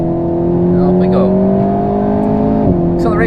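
An Alpine A110S sports car pulls hard under acceleration in manual mode on a track, its engine note rising steadily and loud from inside the cabin before a brief dip at a gear change, with a voice talking over it.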